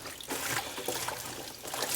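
Green onions rinsed under running water, giving a steady trickling and splashing wash that is fairly close and continuous for the whole stretch, with no talking.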